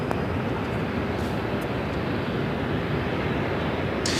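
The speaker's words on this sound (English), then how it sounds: "Japan Airlines, the flight to Osaka now lined up for takeoff at 25 right" A Japan Airlines jet lined up for takeoff on runway 25R at LAX gives a steady, broadband engine roar, continuous and fairly even in loudness, with no talk over it.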